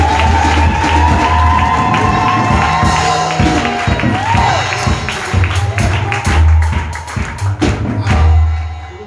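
A church congregation cheers and acclaims during a service, a lively crowd roar with shouts, whoops and scattered claps, swelling in bursts under a speaker's voice over several seconds.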